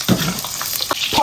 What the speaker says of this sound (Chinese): 锅中多加油，葱姜蒜爆香